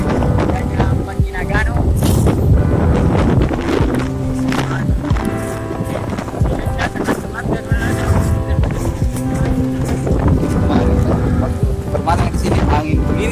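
Strong wind gusts batter a night market stall and its tent, a loud continuous roar with rumbling buffeting and flapping, while people talk and call out over it.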